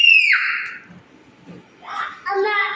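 Shrill scream from a 19-month-old toddler at home, a loud high wail at the start, a brief lull, then more high-pitched crying vocal bursts.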